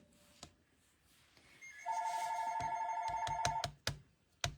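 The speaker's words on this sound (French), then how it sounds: "Désolée pour le téléphone." A telephone rings in a quiet room, one long sustained electronic ring followed by sharp clicks and taps.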